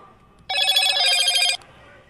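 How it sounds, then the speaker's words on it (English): A phone rings out with a bright, steady electronic tone lasting about a second, loud and close, during a late-night protest livestream outside the federal courthouse in Portland, Oregon. "Somebody tell me how to turn off these stupid notifications, please."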